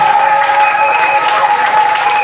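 An audience applauds at a church gathering, a dense, loud, steady clapping that fills the whole moment with a faint crowd murmur.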